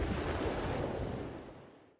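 A roaring surge of water crashes down as a dramatic effect, a loud, broad rushing roar that holds briefly and then fades away to silence.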